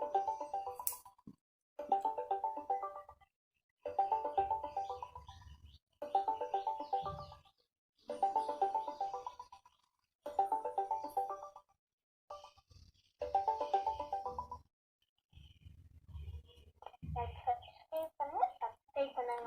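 Repeated outgoing call tone from a laptop voice call, sounding in regular bursts of about a second with short gaps, fairly close and moderate in level, followed by a burst of different tones near the end.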